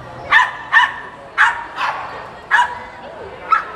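Several dogs barking in a series of short, sharp yaps at uneven intervals, fairly close and loud, with a faint whimper near the end and no talk over them.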